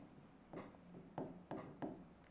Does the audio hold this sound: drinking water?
no